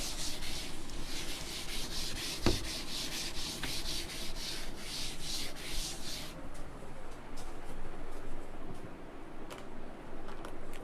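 Dry rasping strokes of rubbing out writing on a board during a talk on the Vedic structure of the cosmos, a steady back-and-forth scrubbing that runs for several seconds, close up, then quietens to sparse faint scrapes.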